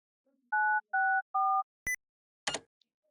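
A browser memory game plays a short sequence of electronic tones: three steady dual-pitch beeps in a row, then a sharp click and a brief noisy burst, all clean and close with no talking.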